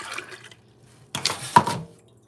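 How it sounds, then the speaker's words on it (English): Water pours into a measuring cup in two short splashy bursts, the second louder and closer, with quiet gaps around them and no talking. "And then I'm going to pour it in this cup."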